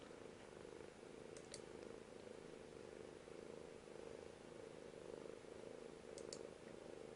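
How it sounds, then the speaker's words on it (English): A pet cat purring softly and steadily, a low continuous rumble held throughout with faint background hiss. "I can hear the cat purring, that's adorable"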